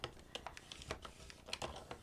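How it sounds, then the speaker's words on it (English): A blade scoring lines into paper at short, regular intervals of a few millimeters, heard as a quick run of sharp, close ticks and scratches with no voices. "every 3 or 4 millimeters I want to just put a score on the paper"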